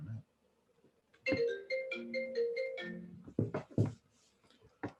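A mobile phone rings during a trauma surgery lecture, a short melodic electronic ringtone of several rising and falling tones, followed by a few brief clipped voice sounds.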